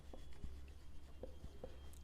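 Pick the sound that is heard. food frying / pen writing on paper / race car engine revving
pen writing on paper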